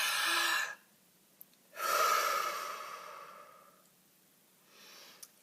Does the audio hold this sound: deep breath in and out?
yes